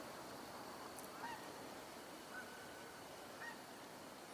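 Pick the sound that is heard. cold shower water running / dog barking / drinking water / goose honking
goose honking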